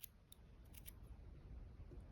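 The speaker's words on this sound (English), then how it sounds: "And we're going to cut this off." A few quick, crisp snips of scissors cutting through crochet yarn at the end of a tied-off stitch, close and quiet, with a faint low room hum underneath.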